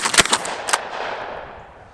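A Winchester 97 shotgun slam-fired with slugs at a bank: a quick burst of sharp, loud, close blasts packed into under a second, followed by a long fading echo.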